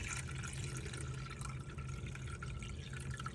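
Fermented rice water, left to sit for weeks, being strained, with a steady close liquid trickle and dripping running throughout.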